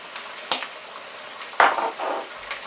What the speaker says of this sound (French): mes oignons, je les fais revenir avec un peu de l'huile d'olive